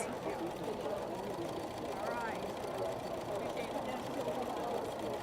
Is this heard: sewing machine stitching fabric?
yes